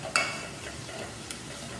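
Shrimp and onions are stirred in hot oil in a pan, giving a soft, steady sizzle with a sharp clink of the spoon near the start and another light scrape later, quiet and close, with no voices.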